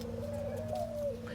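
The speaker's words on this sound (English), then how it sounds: "Do people bring doves in the house as pets too, or no?" A dove kept indoors gives a single soft, steady coo, close and fairly quiet over a low hum.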